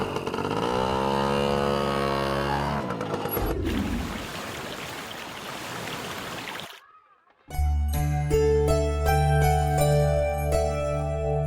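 A motor vehicle engine starts with a rising, revving drone, then fades into rushing noise before a brief drop-out, after which tonal music takes over.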